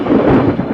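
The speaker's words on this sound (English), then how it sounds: "the flash of lightning, the roar of thunder" A short, heavy rumble of thunder in a dramatized biblical scene, a loud, close roll with no voices over it.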